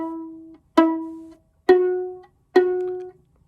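Three bowed open A notes on orchestra strings from a 6th grade orchestra lesson, each a clear sustained stroke with a sharp start, evenly spaced with short gaps, close and moderately loud.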